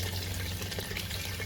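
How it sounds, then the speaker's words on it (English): Water gushing steadily from a Kegland Bucket Blaster flushing water and debris, a continuous splashing rush at moderate level with no talk. "When I turn this on, you'll see a big load of crap coming out at the start."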